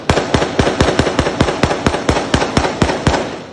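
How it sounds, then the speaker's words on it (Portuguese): Rapid rifle fire rings out during an attack on an armored military police vehicle, with about fourteen sharp, loud shots in a steady, evenly spaced rhythm, each one echoing briefly. "Um comparsa auxiliou a ação do bando, atirou com um fuzil e deu cobertura."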